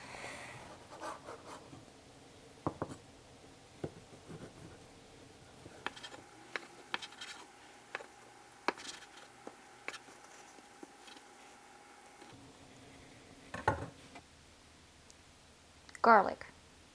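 Sharp irregular knife taps on a cutting board as rinsed vegetables for kimbap are sliced, scattered single clicks spread over a quiet kitchen with a louder rustle near the end.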